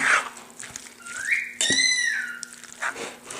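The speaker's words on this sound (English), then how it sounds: "a cockatiel in the background making a lot of noise" A cockatiel calls loudly in the background while guacamole is made, with rising whistle-like squawks and one sharp harmonic screech in the middle over light kitchen sounds.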